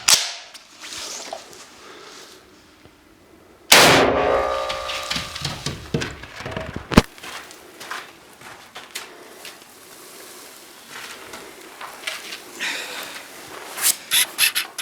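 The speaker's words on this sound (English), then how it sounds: "We're about to fire a 762 by 54R into it." A 7.62x54R rifle round is fired into a curved level 3 armor plate, giving one loud sharp report that rings and fades, then a second sharp crack, followed by quieter rustling and clicks.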